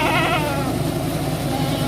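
A goat being prepared for slaughter for an aqiqah bleats with a wavering, drawn-out cry close by, over a steady low rumble like an engine running nearby.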